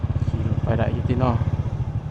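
Motorcycle being ridden near the Mekong river camp area in Pakse, Laos, its engine putting along steadily and close, with a voice talking over it.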